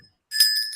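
A single bell rung to signal that time is up at a televised discussion, a bright sustained ring that starts suddenly after a near-silent moment and rings on steadily.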